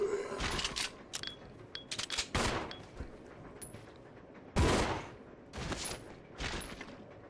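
Gunfire in the survival horror game Resident Evil 0, several sharp broadband bursts scattered across the stretch, some single shots and a couple of louder blasts, over a low steady game ambience with no talk.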